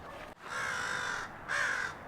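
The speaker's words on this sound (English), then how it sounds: "do you hear that crow?" A crow caws in a park, two drawn-out, harsh calls with a brief gap between them, moderately faint over a steady outdoor background and with no talking.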